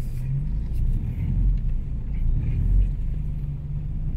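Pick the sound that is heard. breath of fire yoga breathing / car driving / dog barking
car driving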